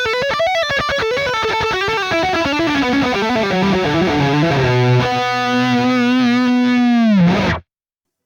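An electric guitar through the Archetype Petrucci X amp plugin with the master cranked to around 9 plays a fast saturated lick and then holds a long, aggressive sustained note. Loud and alone, it stops abruptly near the end.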